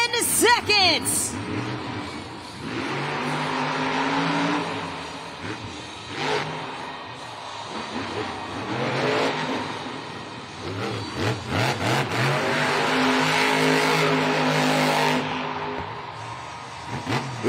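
Shell Shocked monster truck engine revving and roaring through a Monster Jam stadium freestyle run, loud and sustained with repeated throttle swells and crowd noise, under an announcer's talk.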